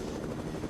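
A helicopter in Fortnite drones on, a steady low chopping rotor rumble that stays even and moderately loud for under a second, with no voices over it.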